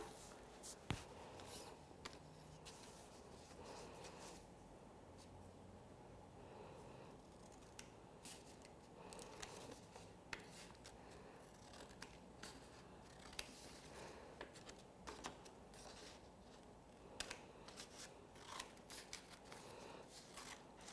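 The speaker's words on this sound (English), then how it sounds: "he's going to get started cutting out his shapes" Scissors snipping steadily through a plastic milk jug to cut out shapes, a continuous run of small crisp cuts and rustles at close range, fairly quiet, with no talking.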